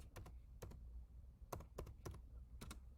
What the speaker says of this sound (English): Sorry, I don't type fast,